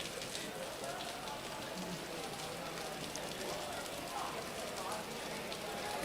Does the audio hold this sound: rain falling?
yes